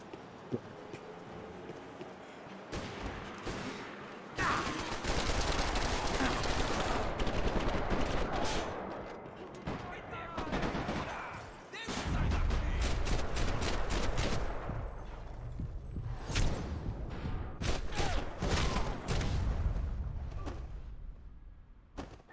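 Max Payne 3 gameplay gunfire, with repeated loud shots and rapid volleys spread across a long stretch, broken by brief lulls and sharp impacts.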